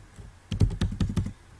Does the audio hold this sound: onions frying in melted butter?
no